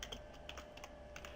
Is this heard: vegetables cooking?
no